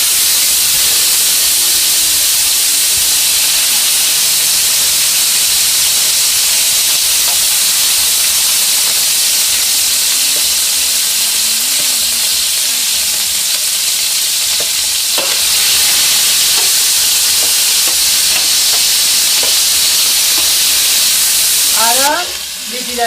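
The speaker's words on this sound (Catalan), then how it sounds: "Ara sofregirem també la sèpia" Cuttlefish and swordfish sautéing in oil in a pan, a loud, steady, close sizzle that runs unbroken throughout with occasional stirring scrapes near the end.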